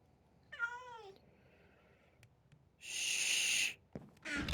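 A cat in the Minecraft video game gives a clear, wavering meow near the start, followed by quieter game sounds and two louder bursts of noise later.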